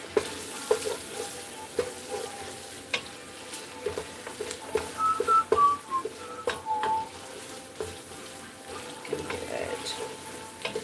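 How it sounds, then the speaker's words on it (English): Onions fry in a pan a little over medium heat for German potato soup, a soft steady sizzle with light stirring scrapes and clinks, fairly quiet throughout. "We just want to soften the onions at this point."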